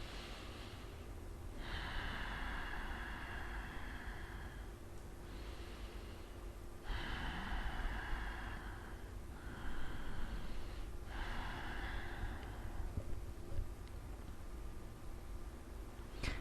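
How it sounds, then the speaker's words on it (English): Slow, deep breathing cycles during a yoga-style breathing exercise, each long airy inhale and exhale repeating about every two seconds, close and soft over a steady low hum. "Inhale slowly, filling in your lungs"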